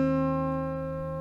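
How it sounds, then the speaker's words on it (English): An acoustic guitar's open B string plucked once, sustaining alongside the lower strings still ringing, heard alone and gradually decaying. "and then the open B string,"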